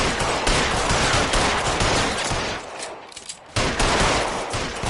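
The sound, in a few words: gunfire shooting out letters, from video game L.A. Noire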